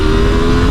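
A 2024 KTM 990 Duke parallel twin motorcycle engine revs loud and close, holding a steady, strong drone throughout.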